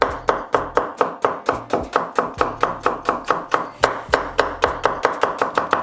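Red onions chopped with a knife on a board, a quick steady run of crisp close chops, about three or four per second, with no talk over them.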